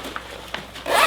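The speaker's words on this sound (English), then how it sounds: "you go ahead and unzipper it." The zipper of a leg compression boot for lymphedema is pulled open, with two short scratchy ticks and then a louder, sustained rasping unzip at the end, close and alone.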